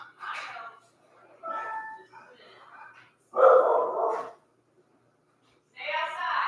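Several bursts of dog barking and yipping from a dog at a house door come in separate clusters with pauses between them, loud and close, while someone talks to the dog in between.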